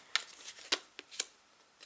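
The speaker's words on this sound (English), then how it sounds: "Just got to shuffle another row." Tarot cards shuffled by hand in a few quick, soft riffling bursts, faint and close, with no talking.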